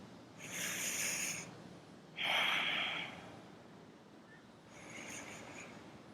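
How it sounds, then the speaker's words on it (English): Slow, deep breaths during a stretching session, heard as three long airy breath sounds, each a second or so, separated by quiet pauses with no talking. "Big deep breath in and out here."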